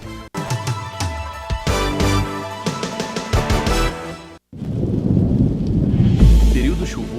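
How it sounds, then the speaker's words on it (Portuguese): Heavy rain pours down during a thunderstorm, with dense, steady hiss and crackle, loud rumbling thunder near the end, and sharp percussive bursts earlier in the stretch. "os flagrantes chocantes do temporal"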